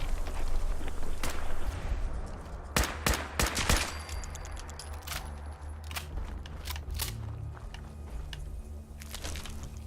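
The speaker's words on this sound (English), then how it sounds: "Well, in that case, I'll just shoot you. Shooting him in the claw." Rapid gunfire from Fallout 4 in survival mode, with a quick cluster of sharp, loud shots early on, then scattered single cracks over a steady low combat rumble and no speech.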